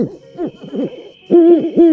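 An owl hooting in a night scene, two clear close calls, the first softer and wavering, the second louder and steadier after a brief pause, heard alone.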